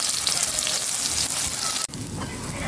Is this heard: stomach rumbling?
no